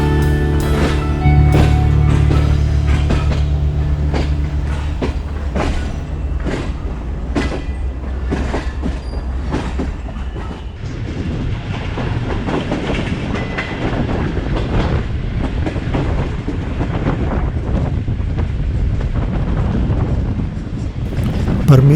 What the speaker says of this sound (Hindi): हम यार्ड से निकल गए हैं और अब ट्रेन ने कुछ स्पीड ली है